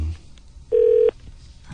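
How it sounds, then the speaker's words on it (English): A single steady telephone keypad tone sounds for a fraction of a second, clear and close, in a quiet room between bits of talk. "I'm dialing 206, but I don't dial one"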